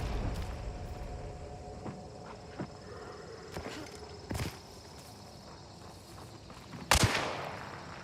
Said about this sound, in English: He's shooting through the wall at me